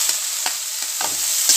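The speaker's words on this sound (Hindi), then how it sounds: "प्याज मु ब्राउन कलर फ्राई कर नेबी" Chopped onions sizzle steadily in a hot pan for an Odia curry, with a spoon stirring and scraping in several soft strokes over the continuous fry.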